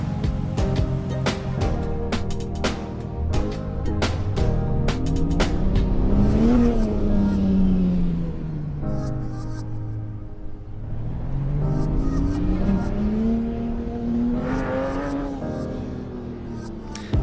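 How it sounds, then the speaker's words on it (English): Sports car with a manual gearbox and a 500 PS flat-six engine, driven on a canyon highway, revving up through the gears with rising and falling engine tone, loud and close, with a brief shift dip midway. "the thing that makes it ultra desirable is the manual gearbox mated to that 500 PS flat 6 engine"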